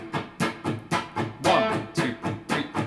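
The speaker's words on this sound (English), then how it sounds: "I'm playing fret 7 on the D string, which is the root note A" An A note played at the seventh fret of a guitar's D string runs through an effects unit, producing eight rhythmic pulsing stabs at an even tempo, loud and close, with no voices.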